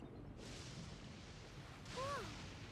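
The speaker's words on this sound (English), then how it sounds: "Whoa! Where'd that thunder come from?" Video game thunderstorm thunder: a broad rumbling crash rolls in, fades, then a second surge builds near the end with a rising tonal swoop over it.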